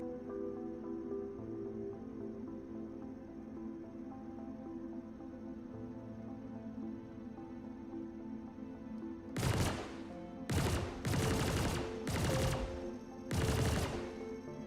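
Outlaws firing on a spaceship in a video game: over a low engine hum, five loud bursts of rapid gunfire arrive in quick succession near the end.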